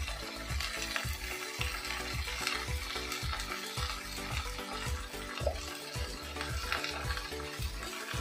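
Spices with salt and turmeric fry steadily in a hot pan for a Bengali dharos chachori, a dense continuous sizzle with regular scraping stirs of a spatula, loud and close with no talking.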